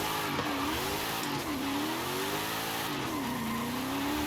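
In Forza Horizon 5, a powerful car's engine drones while its tires spin and squeal, the pitch sliding up and down as it slips through the gears, loud and continuous.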